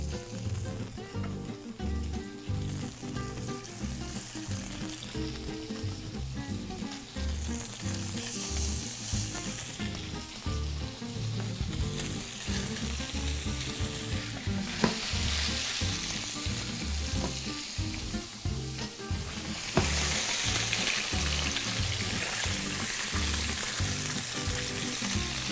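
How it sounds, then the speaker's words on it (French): A fish fillet searing flesh-side down in a hot pan gives a loud, continuous close-up sizzle and crackle lasting throughout, with occasional clicks of handling and no voices. "On va seulement le saisir que d'un seul côté."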